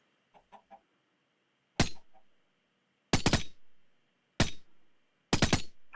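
Short Minecraft chicken clucks sound softly at first, then sharp bursts of MP5 submachine-gun fire crack out in four loud volleys, each a quick rattle of shots separated by pauses.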